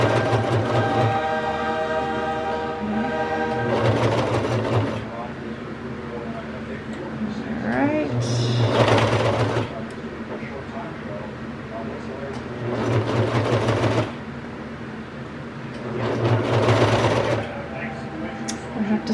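A sewing machine stitches a kids' raglan T-shirt made from a Simplicity 9205 pattern, running in several whirring bursts of a second or two, separated by short pauses, close and fairly loud.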